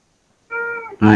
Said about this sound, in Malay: Bunyi kucing